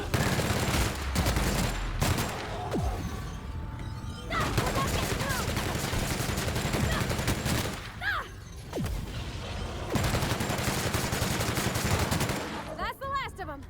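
A high-rate gun in The Outer Worlds fires rapid automatic bursts, dense rattling volleys that run in long stretches with brief pauses, with clicking mechanisms and game effects underneath, fairly loud and close.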